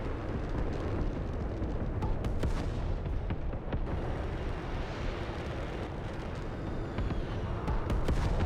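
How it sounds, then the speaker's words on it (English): Long-range missiles repeatedly fired in the aerial combat video game Metalstorm, a steady roar of launches and booming impacts with sharp cracks scattered throughout, loud and continuous with no talking. "Someone has long range missiles and is spamming the weapon."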